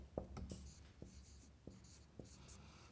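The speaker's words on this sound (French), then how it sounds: "je vais l'écrire" Marker or chalk writing on a board in a lecture room gives soft scratchy strokes and several light taps, faint and close, with no talk over it.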